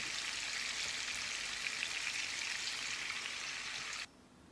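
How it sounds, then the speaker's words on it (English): Frikkadel frying in a pan give a steady, fairly faint, close crackling sizzle with no talk. It cuts off abruptly near the end. "I'll just wait for this to fry finish"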